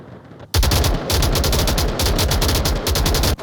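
Sustained automatic gunfire in the VR shooter Onward during a competitive match, loud, rapid and close, with dense bursts rattling almost continuously and brief gaps between volleys.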